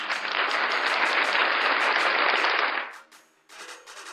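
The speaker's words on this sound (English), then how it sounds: "Nate, let's give her another round of applause, though." Audience members clap in a dense burst of applause for about three seconds, then it cuts off sharply, followed by a few scattered claps.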